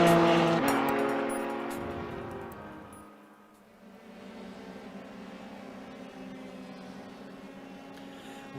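Formula 3 open-wheel race cars lapping Donington Park in iRacing, with a high-revving engine whine that drops in pitch and fades, then a steadier, quieter engine drone that carries on alone.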